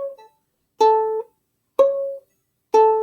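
Three short bowed or plucked C sharp notes on a string instrument, on a single steady pitch, evenly spaced with silence between them, played close and clear.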